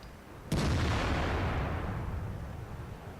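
An E 75 heavy tank in World of Tanks fires its main gun once, a loud near boom with a sharp onset followed by a long rumbling decay that lingers for several seconds, with no voices.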